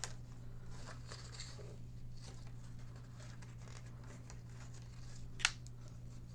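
Scissors snip the end of yarn tied through a paper fish craft, soft close rustles and small cuts with a sharper snip near the end, over a steady low hum.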